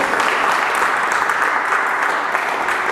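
A church congregation claps and cheers in praise of the Lord, a dense, steady wash of loud applause filling the room throughout with no break.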